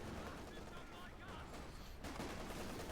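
Machine gun fire in the World War II strategy game Company of Heroes 2, dense sustained bursts under continuous talk, with the gunfire thinning briefly midway before resuming loud.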